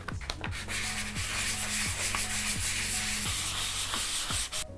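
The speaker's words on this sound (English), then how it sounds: "I think I should probably give it a little sand" Sandpaper rubbed back and forth across a linocut printing block, a steady rasping scrape in regular strokes about once per second, close and even, ending abruptly.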